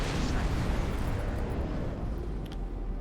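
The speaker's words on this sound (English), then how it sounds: "Explosion imminent." A loud, sustained explosion roar in the space combat game X4: Foundations, dense and rumbling throughout with no distinct individual blasts, fading slightly toward the end.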